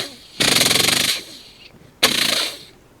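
A voice imitates a machine gun, two loud rattling bursts of rapid staccato pulses, the first longer, the second shorter after a brief pause, heard close with no other sound.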